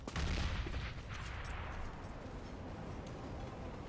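USP pistol fire during a competitive Counter-Strike match on Overpass: a sharp burst of shots up front, then a dense, echoing wash of gunfire and game noise, fairly loud throughout.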